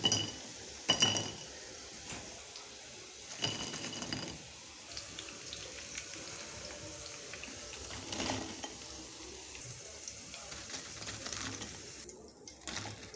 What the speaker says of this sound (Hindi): प्लेट में डिश आउट करेंगे।